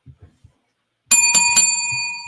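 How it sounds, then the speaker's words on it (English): A bell rung at the close of a wrestling podcast, three quick bright strikes ringing out with long, sustained metallic overtones that hang and slowly fade, following a few soft low thumps. "here's the bell, so we know what that means"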